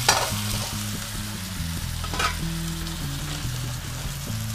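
Tuna fillets fry in hot oil in a pan, a steady bright sizzle with occasional crackles and stirring scrapes, close and continuous beneath a soft background music bed.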